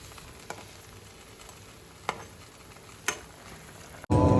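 Fish frying in a pan on a gas stove, a soft steady sizzle with a few sharp pops and ticks, and a sudden louder burst of frying right at the end.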